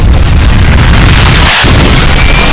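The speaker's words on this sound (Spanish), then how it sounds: "la corriente llegó al tubo de lanzamiento y disparó el cohete letal" A lethal rocket fires from a ship's launch tube and blasts across the deck, a loud sustained roar and explosion with a brief dip partway through.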